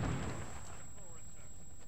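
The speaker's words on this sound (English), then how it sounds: "They're bombing us again." A bombing raid in the video game We Happy Few sets off a deep, booming explosion that rumbles and decays over about two seconds, with a faint voice beneath it.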